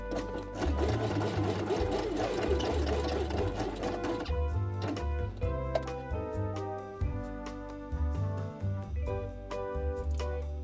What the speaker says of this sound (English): And sew these lines on the machine.